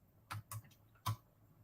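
Quick keystrokes on a computer keyboard, three short clicky bursts in fast succession, close and fairly quiet in an otherwise still room.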